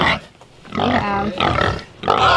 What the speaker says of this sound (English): Okay, piggies. They heard us coming and they're excited.